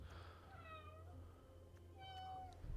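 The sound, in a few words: small cat mewing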